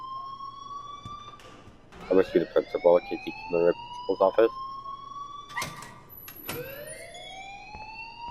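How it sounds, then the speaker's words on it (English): A school fire alarm in Life Is Strange wails with rising, sweeping tones, steady and loud while people talk over it in the foreground. "please turn off that alarm since that's your job."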